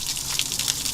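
Water gushing steadily from a hose into an RV holding tank, a continuous hissing rush that keeps running without a break.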